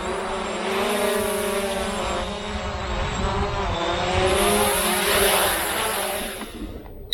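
A Visuo K1 Pro drone's propellers whine and buzz steadily nearby as it descends to land, the tone wavering and swelling slightly before cutting off at the end.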